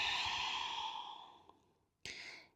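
A long, breathy exhale during a back-care breathing exercise, close and soft, fading out slowly, then a brief sharp intake or second short breath near the end.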